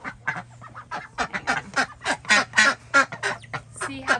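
Rescued ducks at a sanctuary quack in a steady stream of short, overlapping calls, close and fairly loud, with no talking.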